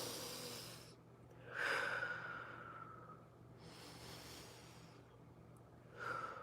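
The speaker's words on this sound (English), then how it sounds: "controlling the breaths, making them deep and expanding the belly" Slow, deep controlled breaths with the belly expanding, each long airy inhale and exhale close and soft, spaced a few seconds apart with no talking.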